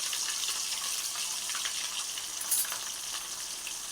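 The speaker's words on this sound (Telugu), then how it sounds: "మెత్తళ్ళు బాగా కొంచెం ఎర్రగా వచ్చేటట్టుగా వేయించుకోవాలి." Small dried fish (mettalu) frying in hot oil, a steady close sizzle and crackle that holds throughout with a brief sharper pop midway and no voices.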